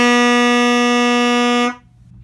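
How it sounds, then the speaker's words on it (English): Saxophone holding a single steady F sharp, a bright buzzy reed tone with rich overtones sustained evenly for under two seconds before cutting off cleanly, close and loud with no talking. "to play F sharp"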